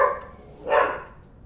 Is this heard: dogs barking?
yes